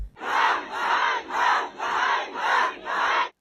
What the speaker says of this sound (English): over 100 people protested at the Baranivka Territorial Recruitment and Social Support Center. Those present, mostly women, chanted shame for some time